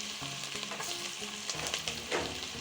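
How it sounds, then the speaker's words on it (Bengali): Small pieces of chopped garlic sizzle steadily in hot soybean oil and butter, with a constant crackling hiss, occasional stirring scrapes and small pops. "রসুনগুলি ব্রাউন কালার হওয়া পর্যন্ত আমি ভেজে নেব।"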